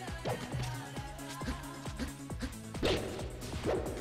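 Marth's down smash attack in Super Smash Bros, a series of sharp whooshing swipes and thwacks landing in an irregular rhythm over steady game background, each hit close and punchy.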